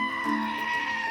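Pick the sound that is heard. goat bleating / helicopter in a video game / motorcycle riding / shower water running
goat bleating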